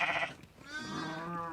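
A goat in the Tatacoa desert lets out a single close, wavering bleat while its kids are nursed with milk from another goat. No voices are heard.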